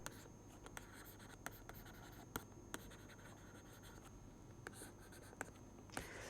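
Pen or pencil scratching across paper while a free body diagram of a hoop is sketched, faint and steady with a few sharper taps and strokes, no talking.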